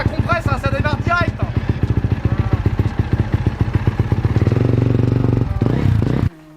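A rebuilt Honda CRF dirt bike with a fixed cylinder head and piston fires up straight away, its engine running loud and close in rapid, steady pulses, then revving higher and fuller before cutting off abruptly.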